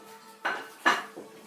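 Metal baking pans, including a springform pan, clank together in a kitchen, with two sharp knocks and a lighter third one, close and moderately loud without talking.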